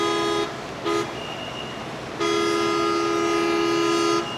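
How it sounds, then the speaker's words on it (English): A construction crane's horn honks loudly in a steady tone, with two short blasts and then a long sustained one, over a background of distant site noise. "the crane operator would just like honk the horn nonstop"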